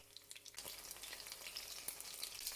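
Shrimp and chicken frying in hot oil over medium-high heat, a steady, fairly quiet crackling sizzle with scattered small pops throughout.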